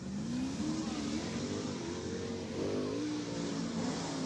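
Sprint car qualifying at Waynesfield Raceway Park, a loud high-revving engine note rising and falling as the car laps the dirt oval, continuous throughout.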